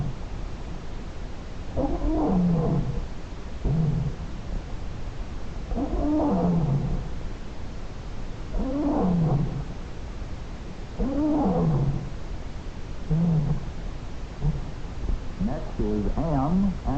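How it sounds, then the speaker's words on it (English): African lion roaring in a series of deep, groaning calls that fall in pitch, repeated about every two seconds with a rapid run of grunts at the end, heard over a low hiss from a 1950s television broadcast. "They want to hear the lions roar."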